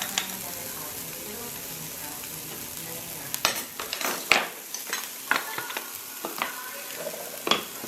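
Onions cooking down in a pan give a soft, steady sizzle close by. Scattered sharp scrapes and clicks from stirring become more frequent in the second half.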